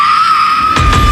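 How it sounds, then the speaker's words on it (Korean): A woman in a film lets out a loud, sustained high scream that holds steady for about a second, with a burst of low rumbling thumps breaking in near the end. "I'm gonna need you to scream."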